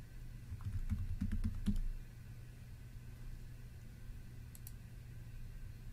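A short, close burst of keyboard typing with a few mouse clicks at a computer, then a quiet steady room hum with a couple of faint distant clicks.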